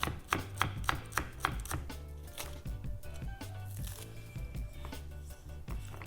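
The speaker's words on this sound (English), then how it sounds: "The culantro, I'm just gonna cut up very thin" A knife chops culantro thinly on a cutting board, starting with a quick run of crisp, evenly spaced taps, then continuing more irregularly under a low background hum, fairly quiet.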